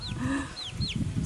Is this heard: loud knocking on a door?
no